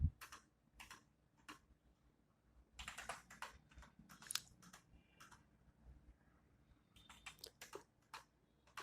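Quantities being typed on a computer keyboard into PharmaCare pharmacy software, crisp, close key clicks coming in short irregular bursts separated by quiet pauses.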